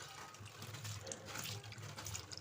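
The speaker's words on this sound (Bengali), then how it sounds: "চলো মাছগুলো ভালো করে ধুয়ে নিই" Running water splashing steadily while katla fish are rinsed at a kitchen sink, a faint continuous wash with small irregular splashes.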